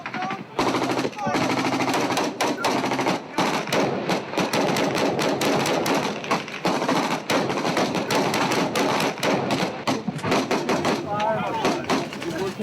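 Gunfire during a war, dense bursts of close automatic fire and single shots cracking repeatedly through the whole stretch, with shouted voices mixed in.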